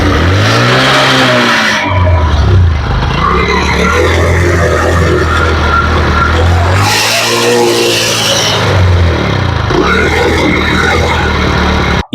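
A repaired motorcycle engine fires up and revs, its pitch rising and falling across several loud, close throttle sweeps, with a rough idle between bursts and an abrupt cutoff at the end.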